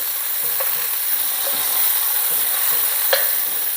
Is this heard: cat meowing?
no